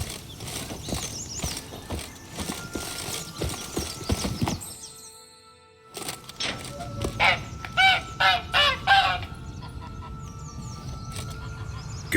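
A caged goose in The Witcher 3: Wild Hunt – Blood and Wine honks repeatedly and fairly close. A series of loud, nasal calls comes after a brief lull, over outdoor ambience with hoof clops in the background.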